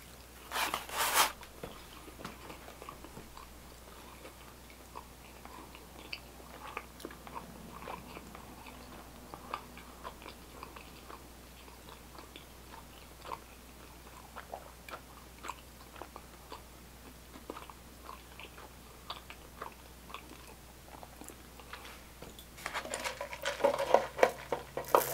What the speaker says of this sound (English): that was 30 seconds of chewing.